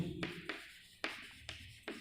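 Chalk or marker strokes on a board during a chemistry lesson: five sharp, distinct taps and scrapes at irregular intervals, fairly close and quiet, with no talking.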